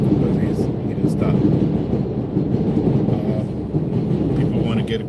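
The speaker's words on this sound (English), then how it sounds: "And maybe as the train passes, takes an express train, because he didn't stop." A passing express train rumbles loudly and continuously, a dense low roar with faint rhythmic clatter running through it, heard close up in a Bronx street setting.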